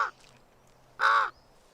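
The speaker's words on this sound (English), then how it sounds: "Wily and highly intelligent, this, the world's largest crow, would have been a familiar sight to the Vikings" A raven, the world's largest crow, gives two loud, harsh caws in a seashore setting, a short one at the start and a longer croak about a second later, with quiet in between.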